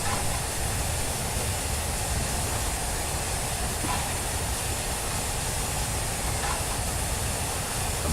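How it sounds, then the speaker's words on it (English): Steam locomotive in a train simulator game blowing off steam with the regulator shut, a steady broadband hiss and rumble of the moving train running continuously and loud throughout. "We're going to be blowing steam all the time now."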